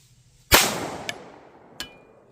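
A Canik TP9 Elite Combat pistol fires one loud, sharp shot that rings out and decays, followed by two fainter sharp metallic reports spaced about a second apart.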